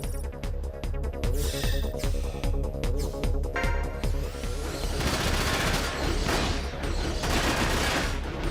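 Dense, continuous gunfire from a Front Mission 5 mecha battle, with rapid bursts and heavy volleys packed together at a loud, steady level.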